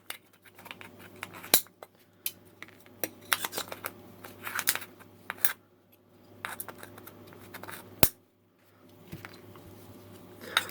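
Thin metal of a can being peeled and rolled back along its edge to make an alcohol stove, heard as irregular close scraping, crinkling and clicking with brief quiet gaps.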